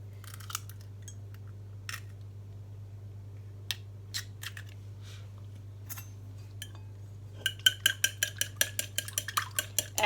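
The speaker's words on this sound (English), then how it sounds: "So first you beat the egg with a fork" A fork beats an egg for a South African milk tart: scattered faint clinks against the bowl build into a fast, regular run of close metallic taps near the end, over a low steady hum.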